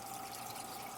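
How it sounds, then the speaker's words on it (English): Steady trickling water from a hang-on-back aquarium filter running on a fish tank, a continuous soft splashing flow, faint and close. "we got our trusty hang-on back filter running"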